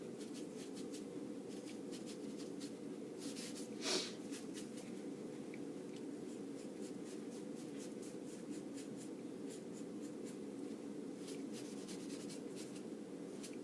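Soft rubbing of a dirty tissue on paper while blending a charcoal owl drawing, a faint steady scratchy swish with one slightly louder stroke, close and alone.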